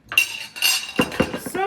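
Dishes and cutlery being washed in a kitchen sink, with a couple of close, bright clinks and the clatter of metal utensils knocking against plates in quick bursts.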